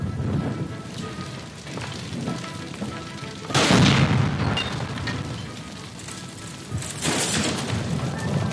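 A gas line blown up by gunshot inside a building in the video game L.A. Noire, a loud broadband burst amid a continuous rumbling, rain-like din, with a second smaller surge a few seconds later.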